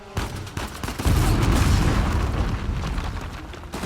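Shotgun blasts and booming combat in Uncharted 4, several heavy shots and a sustained rumbling explosion filling the middle, loud and close with no talk.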